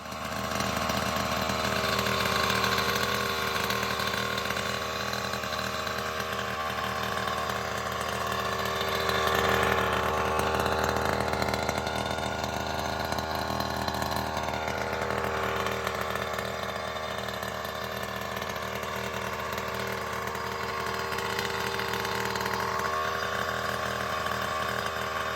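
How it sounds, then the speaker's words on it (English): A Primal Raminator engine fitted with an OBR 47 SS reed motor and TR/OBR kit runs steadily and loudly at a constant buzzing idle, with a brief rise in revs midway, and no talking. "sounds way different with this Reed case motor than it did when I had a standard"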